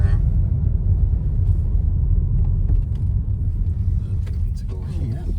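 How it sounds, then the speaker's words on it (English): A car drives through a village centre, its engine and road noise forming a loud, steady low rumble from start to finish, with a person talking over it. "Just driving through the sort of centre of the village now."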